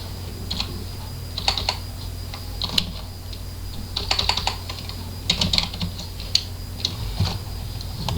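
Fingers tap out a user name on a computer keyboard in irregular bursts of close, crisp key clicks with short pauses between them, over a low steady hum, no voices.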